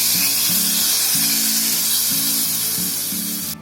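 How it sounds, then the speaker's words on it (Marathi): Hot tadka of spiced oil poured into a pot of kadhi, giving a loud, steady sizzle that hisses on for several seconds and cuts off abruptly at the end. "आता मी गॅस बंद करते आणि हा तडका आपल्या कढीमध्ये ओतायचा आहे."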